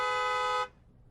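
A single sustained car horn blast, loud and steady, cutting off abruptly after about half a second and leaving quiet background.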